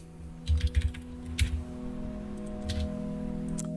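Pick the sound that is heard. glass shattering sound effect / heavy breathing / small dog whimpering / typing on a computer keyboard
typing on a computer keyboard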